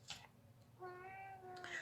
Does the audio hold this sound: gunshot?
no